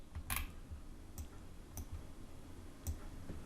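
A computer mouse clicks a handful of times at irregular intervals, sharp and close, while someone designs a free Facebook cover by dragging and dropping images, with quiet room noise in between.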